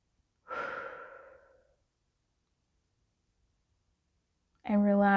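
A slow, deep breath, a single soft, breathy exhale lasting about a second, alone in near silence before a voice begins speaking at the end.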